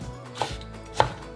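A kitchen knife chops roasted red pepper on a cutting board, giving two crisp, close knocks about half a second apart over quiet room tone.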